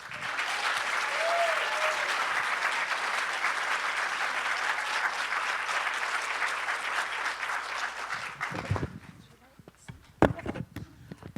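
Sustained audience applause welcoming a writer-director back for a film-festival Q&A, loud dense clapping that fills the room for about eight seconds before thinning to a few scattered claps and light room noise.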